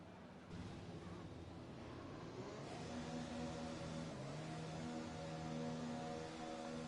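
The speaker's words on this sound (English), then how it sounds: "You can see an Alfa Romeo, a Red Bull, and a Racing Point heading out on the circuit now." Formula 1 cars, an Alfa Romeo, a Red Bull and a Racing Point, leaving the pits onto the circuit in the F1 2020 video game, with engine whine rising in pitch and layering as they pull away, steady and moderately loud.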